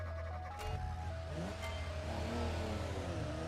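Truck engines in the BeamNG driving game run with a steady, muffled drone that rises and falls in pitch as they rev, continuous and moderately quiet.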